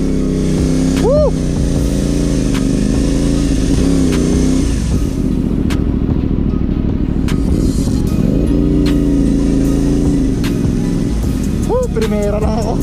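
CF Moto 450-SR motorcycle pulling away and accelerating, a loud, close engine rising in pitch through the revs, dipping and climbing again, with a voice exclaiming briefly over it.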